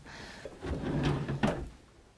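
A bedroom drawer slides open with a short wooden rumble and a soft knock at the end, close by and moderately loud, with no talk over it.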